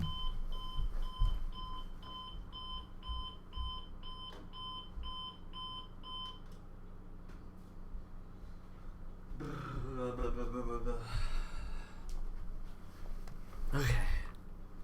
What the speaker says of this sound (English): hold on, the alarm